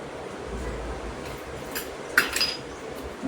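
A spoon stirs ragi ladoo mixture with cardamom and nutmeg in a pan, making soft scraping under a steady background hum, then a few brief metallic clinks near the end.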